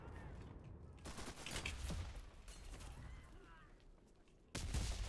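Machine gun firing in a video game, rapid bursts of gunfire in quick overlapping volleys at moderate distance, with a sharper loud blast near the end.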